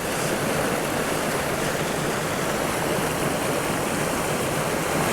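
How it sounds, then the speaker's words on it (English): A small creek in South Dakota flows steadily nearby, a constant close rush of water with no break and no voices. "In a small creek like this"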